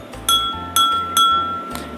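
Three distinct glassy clinks ring out as a spoon strikes drinking glasses in turn, each tap leaving a short bright tone that lingers over a low background drone, with a faint fourth knock near the end.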